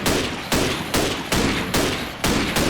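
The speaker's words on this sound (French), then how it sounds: "je vais tirer une coupe de balles d'M14" Six loud rifle shots from an M14 in a video game, fired at an even pace about half a second apart, each sharp crack trailing into a brief decay.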